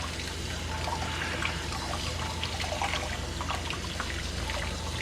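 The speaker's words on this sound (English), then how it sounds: "Make sure you try to wash each leaf individually." Tap water runs and trickles steadily while basil leaves are washed one at a time by hand, a continuous close splashing stream with no talking.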